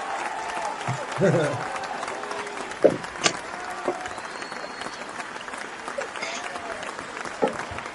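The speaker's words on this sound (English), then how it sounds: "Oh, it's a golf clap applause." A golf clap applause sound effect plays from a podcast soundboard. It is a thin, polite patter of clapping with a few sharper claps, heard beneath people talking.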